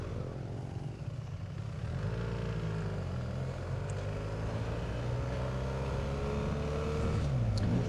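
A motorcycle on a ride from Cluj pulls away, its engine note rising steadily as it accelerates. The sound is continuous and fairly close.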